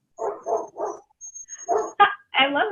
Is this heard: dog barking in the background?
yes